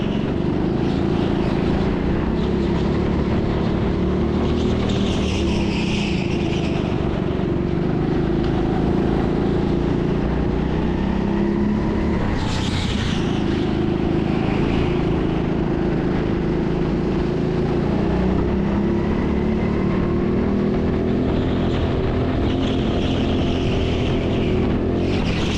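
Go-kart engines droning steadily at an indoor TeamSport track, a loud continuous motor hum with rising and falling pitch and a brief sharper swell midway, no voices.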